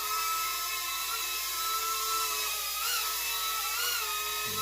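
Propel Navigator Twister drone hovering and coming in to land, a steady high-pitched whirring buzz from its small rotors that wavers in pitch as it maneuvers, close and continuous with no talk.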